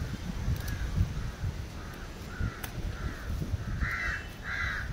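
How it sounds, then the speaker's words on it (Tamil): Crows caw repeatedly around a terrace garden, a run of harsh calls spaced about every half second to second, the later ones louder and nearer, over a steady outdoor background hiss with no talking. "இந்த காக்கா சவுண்டுங்க நிறைய இருக்குது"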